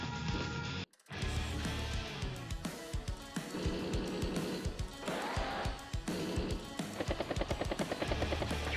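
In the Advance Wars: Days of Ruin video game, a battlecopter attacks a medium tank with rapid machine-gun rattles and thumping hits layered over loud, busy game music after a brief silent gap.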